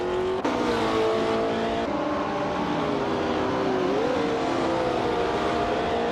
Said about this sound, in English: Chubby Panda is driving a 1973 ARC MF16